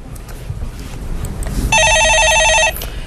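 A telephone bell rings once in a loud, rapid trilling burst lasting about a second, after a stretch of low background rumble and handling noise.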